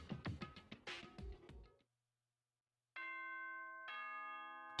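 A Danganronpa school announcement chime sounds as a clean, loud electronic ding-dong: two sustained bell-like tones, the second lower, ringing alone after a moment of silence.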